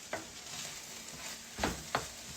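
Bell peppers and onions sauté in a pan, with a steady sizzle throughout. A few short scrapes and stirs land against it, two of them close together near the end.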